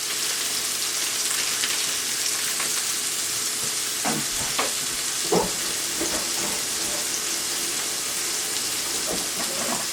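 Marinated food sizzles in a hot pan with its marinade, a constant bright fry hiss with scattered pops and crackles, close and fairly loud, with no talking.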